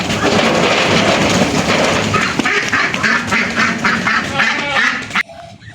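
Muscovy ducks (entok) calling nonstop at close range, loud overlapping quacks and honks for over five seconds before cutting off abruptly.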